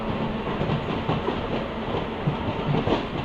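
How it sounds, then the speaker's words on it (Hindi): A MEMU train pulls in at a platform at Kanhan Junction station with a steady, close rumble of wheels and faint rhythmic clatter on the rails. "तो प्लेटफॉर्म पे लग रही है हमारी मेमू ट्रेन।"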